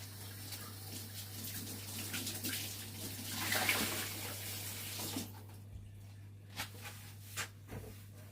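Hands being washed under a running kitchen tap, a steady hiss of water splashing in a sink for several seconds before it cuts off, leaving a few faint knocks and drips over a low background hum.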